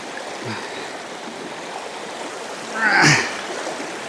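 A mountain stream in New Hampshire's White Mountains flows with a steady rushing wash close by, with a brief louder splash near the end.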